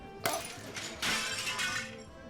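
A sliding glass door shatters inside a tavern, a staged audio-drama effect: a sharp crash, then a second larger burst of breaking glass with tinkling shards trailing off, close and fairly loud.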